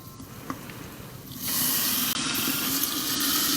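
Water for risotto pours steadily from a tap, starting as a sudden loud hissing gush after a quiet moment and continuing evenly close by.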